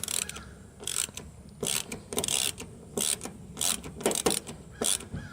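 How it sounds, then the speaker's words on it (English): A ratchet backing screws out of plywood on a boat deck, a series of close, sharp clicking bursts in uneven runs separated by short pauses. "And then use my ratchet."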